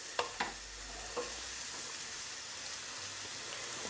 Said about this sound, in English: So you're going to need to get stirring straight away with these, because they will burn otherwise